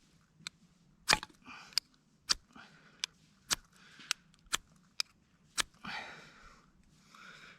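A ferro rod is scraped with the back of a knife at a tarp campsite, about a dozen sharp, separate scratching strikes spaced roughly half a second apart, close and crisp against quiet surroundings.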